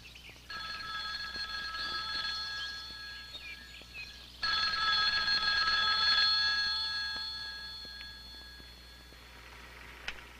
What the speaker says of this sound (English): Morgan receives a phone call from a logger named Skip Wood.